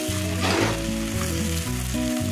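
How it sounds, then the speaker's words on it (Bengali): Giant freshwater prawns fry lightly in a pan for a Bengali malai curry, giving a steady, moderately loud sizzle throughout. Sustained tonal music plays over the frying. "চিংড়ি মাছগুলো খুব বেশি ভাজবো না, হালকা করে ভেজে নামিয়ে নেবো।"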